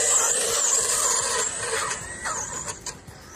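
An Arrma Big Rock RC truck's electric motor whines high and thin during a wheelie, its pitch rising and dipping as the throttle changes, with small clatters near the end.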